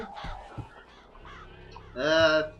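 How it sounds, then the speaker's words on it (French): Crows caw in a burst of harsh, harmonic calls near the end, loud and close within the BioShock Infinite game, following quieter scattered game noise and brief voice sounds. "Il a ces putains de corbeaux ici?"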